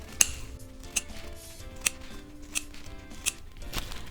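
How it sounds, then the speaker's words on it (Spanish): Scissors snip through folded tissue paper into strips, with a run of five or six crisp, sharp cuts spaced about a second apart, close and alone. "Voy a recortar acá 5 tiras"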